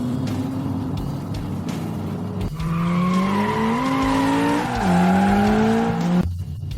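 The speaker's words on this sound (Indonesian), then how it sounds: "aku akan tunjukkan drift inersia" A car sliding through an inertia drift: loud, sustained tire squeal with wavering pitch over a roaring engine, close and continuous for several seconds before cutting off.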